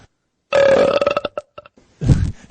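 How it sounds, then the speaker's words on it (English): A man belches on command: one long, loud, croaking burp breaking into a few sputtering pulses, then a second shorter rumbling belch, with silence around them. "he belches on command"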